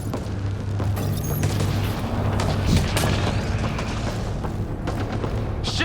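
Rapid gunfire and heavy booms from enemies in a video game, continuous and loud over a low droning hum, with sharp shot transients throughout and a rumbling blast near the middle.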